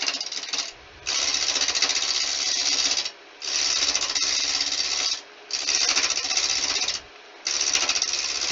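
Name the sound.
wood lathe turning spalted wood coaster blank round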